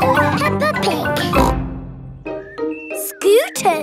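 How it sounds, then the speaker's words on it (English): Cartoon pigs from Peppa Pig give playful voiced oinks among lively character chatter, with a brief tinkling chime; the snorts come in short bursts, close and clear over a light music bed. "This is Mummy Pig."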